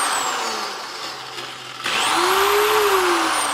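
A Harbor Freight dual-action DA polisher runs with a loud, steady whirring hum. It dips briefly, then the motor surges back to full speed and its pitch sweeps upward and down.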